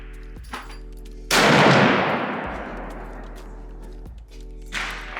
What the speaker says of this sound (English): The lever action is shooting clean, true, and straight.